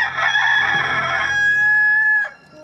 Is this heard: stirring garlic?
no